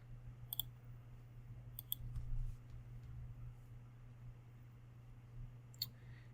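Computer mouse clicks, crisp and quiet, arriving in small pairs and singles spread across a near-silent stretch with a low background hum.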